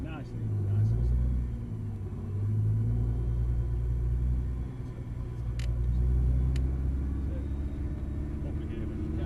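A supercar creeps gently forward in manual first gear at a York track day, its engine a deep, steady low rumble that swells and eases slightly, with people talking inside the car over it.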